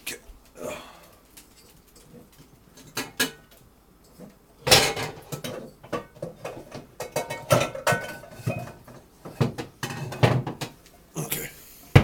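A cooking pot is pulled out and handled in a home kitchen, with metallic clanks, cupboard knocks and scraping of pans in irregular bursts, loud and close, while someone speaks intermittently.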